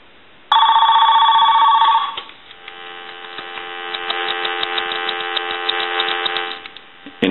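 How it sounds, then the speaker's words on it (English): An AT&T Mickey Mouse 210 telephone rings with a loud, steady electromechanical bell burst of about a second and a half, then a second longer, softer ring follows, with mains hum underneath and no talk. "So we also want to ring the telephone. I'll let that go one more time."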